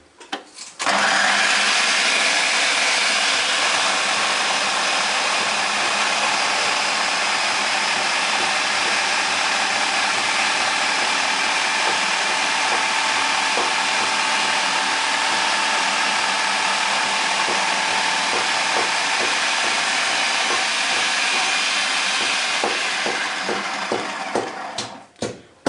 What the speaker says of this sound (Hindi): मूली को ना कद्दूकस करता हूँ चॉपर के साथ।